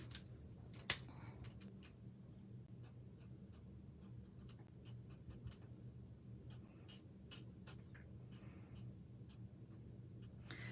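A pencil moves lightly across a paper card with soft, scratchy strokes, drawing ranunculus flowers in a quiet room. Short separate strokes come in an irregular rhythm, faint and close, over a low steady hum.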